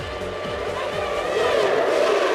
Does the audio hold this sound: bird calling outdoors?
no